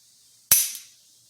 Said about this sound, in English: I believe this is dry fire safe, so let's check the trigger